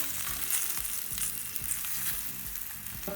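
Sweet potatoes roasting in a covered pan being turned over, a continuous close sizzle and crackle with soft periodic scraping underneath.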